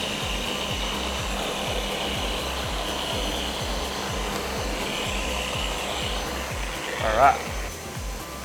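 A Flex power sander makes a slow final smoothing pass, giving a steady, close whirring drone with a rough, grainy texture that runs unbroken the whole way through. It briefly swells louder near the end, and a voice speaks a short word.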